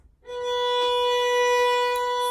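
A single sustained bowed violin note, B on the A string, holds steadily for about two seconds, clear and close, with no talking.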